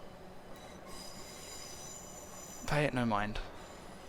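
A BR Class 455 electric train arrives in a train simulator game. Low running rumble, then a loud burst of wheel squeal and brake screech near the end, with a voice speaking over it.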